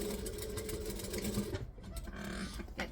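A sewing machine runs steadily, stitching a tag down onto fabric; a continuous close mechanical whir with a rhythmic needle patter that dips briefly near the middle and then resumes.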